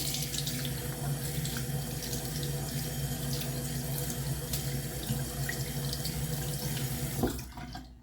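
A tap runs in a steady, loud, continuous stream while a bra is rinsed under it, the flow cutting off abruptly near the end with nothing else heard.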